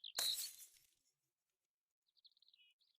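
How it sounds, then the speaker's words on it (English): A pitcher shatters on a rock in the King's Quest III Remake video game, a sudden bright glassy crash that fades quickly, followed later by faint high chirping tones. "The pitcher slips out of your hands and shatters at the bottom of the rock."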